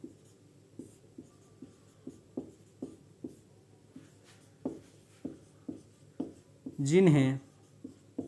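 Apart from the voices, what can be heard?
writing on a board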